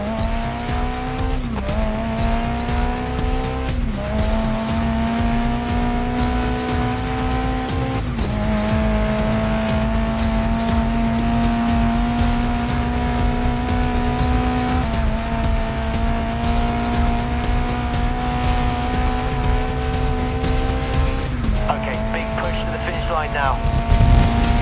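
Race car engines in the video game GRID Legends scream steadily near peak revs, shifting up in pitch with several gear changes and tire squeal, loud and continuous, with speech over the top.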